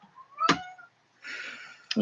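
A domestic cat in an old house meows once with a clear rising call, then another short meow follows after a pause, with some voice-like sound and faint noise in between.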